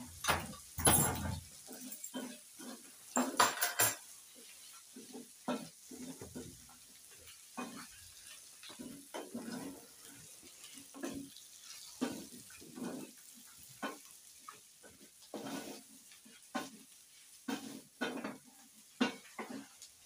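Matumbo and onions fry in a sufuria while being stirred, with a soft continuous sizzle under frequent irregular scrapes and clinks of the spoon against the pot, close by and moderately quiet.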